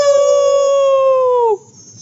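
A person imitates a beast's howl, one loud sustained wail held for about a second and a half before it breaks off, followed by faint room noise.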